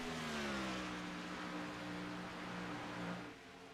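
Race car engines at Darlington Raceway in a racing video game drone loudly with a sustained whining tone that slowly slides in pitch, then eases slightly at the end.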